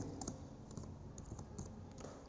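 Data being typed into an Excel spreadsheet on a computer keyboard: steady, close key clicks in irregular quick bursts over a constant low hum, with no talking.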